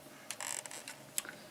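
Plastic ratchet joints on a Cybertron Sky Shadow toy figure click as the limbs are moved, giving short bursts of quick, dry clicks with pauses between them, close to the microphone and alone, with no talking.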